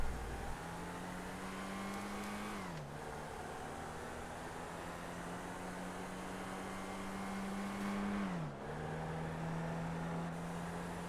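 A Mini Cooper with a Union Jack roof in GTA V spins and smokes its tyres. The engine holds a steady tone that dips twice as the revs drop, over a broad hiss, fairly quiet and with no talking.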